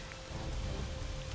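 Steady rain pours in a Shadowgate game scene, a dense continuous hiss with low rumbling underneath, heard alone with no talk.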